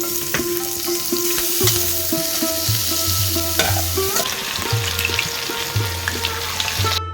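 Chicken pakoras fry loudly in hot oil with a steady, dense sizzle, while a utensil scrapes and taps the pan at intervals. Home kitchen cooking, close up, with no talking.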